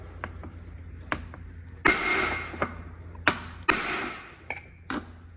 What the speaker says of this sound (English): I take a hammer and a chisel and do it the man way